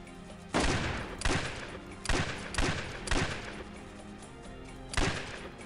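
Gunfire from double rig revolvers in a western outlaw video game, about six sharp shots in uneven bursts, loud and close, with a brief lull before a final shot.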